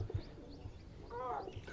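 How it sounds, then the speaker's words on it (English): Birds call on Spike Island, with a short, soft cooing call rising near the end over faint background noise. "Birds."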